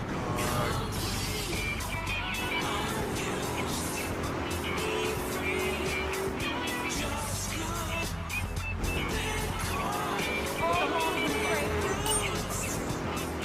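Car driving through Liberty City near a dock in Grand Theft Auto III, a steady loud engine drone with game music and effects layered over it, continuous throughout.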